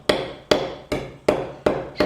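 Convex face of a hammer head striking the fibres of a wooden tenon end resting on an anvil, five sharp, evenly spaced taps about half a second apart, close and clear with no talking.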